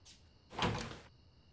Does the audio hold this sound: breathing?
no